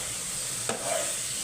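Masala spices fry in a pan with a steady, close hiss as a utensil stirs and scrapes through them twice, with no voices.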